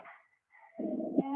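A pet dog gives a short bark and whine indoors in a home during a workout, one brief close yelp followed by a sustained whimpering bark.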